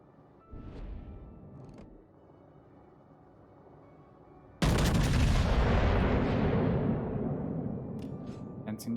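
Warship guns on a Tier VIII Kansas fire in World of Warships, first with a pair of muffled distant booms, then a sudden loud close blast that rumbles and slowly fades.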